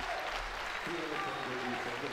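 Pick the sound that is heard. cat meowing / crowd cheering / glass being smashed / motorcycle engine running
crowd cheering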